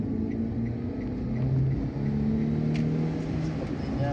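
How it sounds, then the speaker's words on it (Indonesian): Car accelerating to overtake a vehicle ahead on the eastern cross-Sumatra highway near Palembang, a steady engine drone with low rising harmonics and road noise, continuous and close throughout. "Saya akan coba mendahului kendaraan di depan kita."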